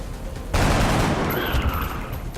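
Gunfire from XCOM: Enemy Unknown breaks out suddenly after a quiet moment and keeps going as a loud, dense burst of shots that lasts about two seconds, with no talking over it.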